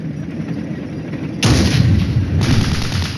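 Gunfire and an anti-tank missile launch boom in the wargame Flashpoint Campaigns: Red Storm, a sustained rumbling barrage that jumps sharply louder midway and stays heavy and dense, with no voices.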